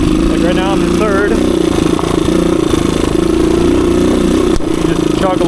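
A 1985 Suzuki DR250 motorcycle engine chugs steadily just above idle in third gear on a wooded trail, a low, continuous, fairly loud rumble running throughout with a few faint voice-like tones over it.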